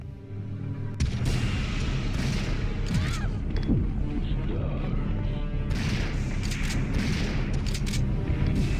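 Shotgun fire and heavy impacts in the 1999 PS1 Resident Evil 3, a dense series of loud booms and crashes, with a few voice-like sounds in the mix.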